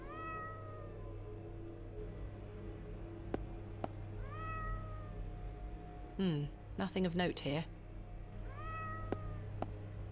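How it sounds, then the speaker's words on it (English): A cat meows repeatedly in the point-and-click game The Excavation of Hob's Barrow, with drawn-out rising-falling cries at regular intervals over a low hum, and a voice speaking briefly in the middle. "the cat doesn't shut up"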